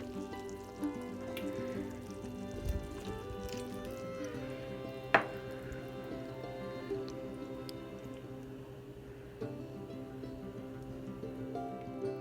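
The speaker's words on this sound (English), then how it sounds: "so it's boiling and I can't stir it down" Apricot jam boiling in a pot on a stove burner: soft, faint bubbling with scattered small pops and sizzles, plus one sharper click near the middle, steady and without talk.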